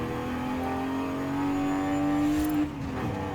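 A car in Forza Horizon 5 drives fast, its engine droning steadily and rising slowly in pitch as it accelerates, then dropping sharply with a brief shift near the end, loud and up close.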